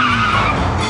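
A car skids hard as it races after a taxi through Paris streets, a loud, close tire screech with engine roar that fills the whole brief moment.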